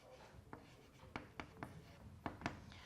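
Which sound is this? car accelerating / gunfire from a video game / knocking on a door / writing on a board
writing on a board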